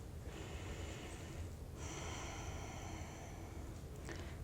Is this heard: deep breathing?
yes